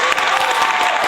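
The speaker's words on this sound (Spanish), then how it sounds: "Un aplauso." Audience applause on a talk show, a brief, steady, loud wash of many hands clapping together without a break.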